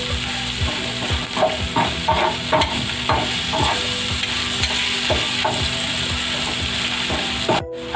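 Fish katakat frying loudly in a pan, a steady sizzle broken by repeated sharp metal-on-pan chops and scraping strokes in an uneven rhythm, close and continuous with no talk.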